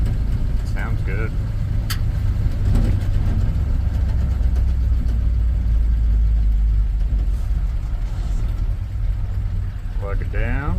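A 1967 Ford F250 Highboy pickup engine, freshly fitted with a new carburetor, runs steadily with a deep, low rumble close by, holding an even idle throughout with faint shuffling noises over it.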